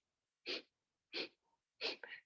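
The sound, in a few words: exhaling through the nose in a breathing exercise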